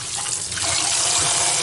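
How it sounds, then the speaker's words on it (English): Tap water pouring steadily over cubed potatoes in a kitchen sink, a close, continuous splashing rush with no voices. "We're just going to kind of let the water run."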